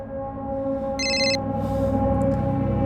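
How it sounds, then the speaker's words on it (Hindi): A telephone rings in one short burst of bright electronic trills, heard over a steady low hum of background noise. "अरे बशीर क्यों फोन कर रहा है अभी?"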